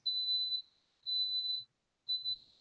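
A rice cooker signals it is done with three clear, high electronic beeps. The first two are long and evenly spaced, and the last one is shorter, all in a quiet room.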